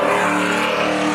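Drag race cars, an 86 and a 2000 Camaro, roar into a corner at a spectator drag event, a loud sustained engine drone close by with no break and no voices.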